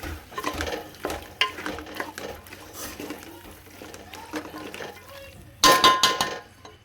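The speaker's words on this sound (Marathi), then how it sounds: "हे मस्त छान मिक्स करून घेऊया मसाल्याचा." Spice masala being stirred in a pan, with scraping and clinking of a spoon against the metal and a low sizzle, ending in a louder burst of sizzling and clatter near the end.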